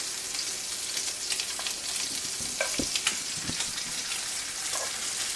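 Angel hair pasta–wrapped shrimp frying in hot oil after being turned, a steady close crackling sizzle with occasional sharper pops and no talking.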